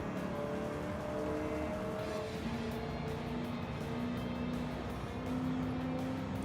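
Race car engine in Gran Turismo on a long straightaway, a steady droning whine that climbs and shifts pitch as the car accelerates, continuous and fairly even with no talk.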